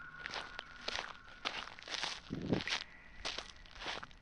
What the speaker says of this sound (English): The footsteps moved away,